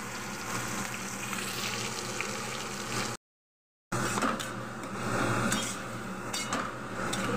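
Spices and a little onion paste sizzle steadily in a hot pan, a continuous dense frying hiss with faint stirring clatter, broken by one brief gap of silence.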